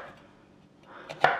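A knife chops through an oddly onion-shaped shallot, mostly quiet at first, then a couple of sharp cuts near the end, the last one loud and close.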